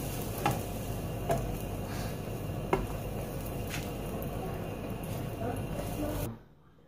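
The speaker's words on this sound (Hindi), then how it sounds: "अब इसमें हम स्लाइस को हल्का सा सेक लेंगे उसी कुकिंग ऑयल में" A bread slice toasts in shallow cooking oil left over from frying an egg, giving a steady close sizzle with a few soft clicks of a utensil before the sound stops suddenly.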